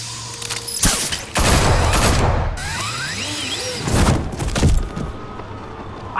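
Gunfire in the Batman: The Telltale Series video game: bursts of loud, dense shots with mechanical clatter and whizzing effects, close and chaotic over a busy action scene.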